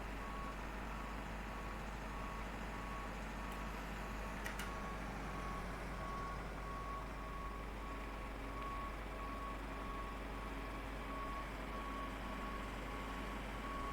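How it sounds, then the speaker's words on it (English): A GSX ground service bus in Microsoft Flight Simulator reverses, its beeper sounding in an even, repeating rhythm over a steady low engine drone, with no voices. "Oh, the bus. Come on, don't destroy our aircraft."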